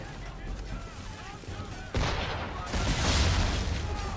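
Heavy booming ship cannon fire in Assassin's Creed 3 erupts in a loud burst partway through, following quieter gunfire and battle noise, with voices calling out.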